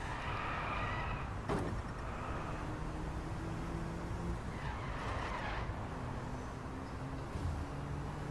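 Tyres of a video-game race car squeal and skid as it drifts through a gentle turn, the engine droning steadily throughout. Several longer slides stand out clearly over the constant motor noise.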